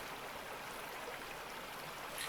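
A gold pan dips into water in the Gold Rush video game, giving a steady, close rushing slosh like running water that holds evenly throughout without any voices.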